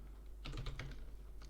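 A computer keyboard is typed on in quick, light, irregular bursts, close to the mic and fairly quiet, over a low background hum.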